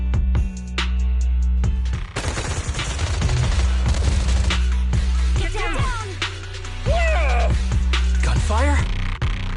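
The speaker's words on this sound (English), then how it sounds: "Gunfire? This pattern. Suppressive marching fire." Rapid bursts of suppressive marching gunfire in Zenless Zone Zero crackle nonstop, layered with a low rumbling drone and occasional voice-like chatter, loud and close throughout.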